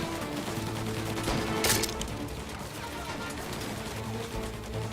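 Tommy gun fire in the Mafia video game: a dense, steady clatter of automatic shots with a sharper burst partway through, set against continuous game noise.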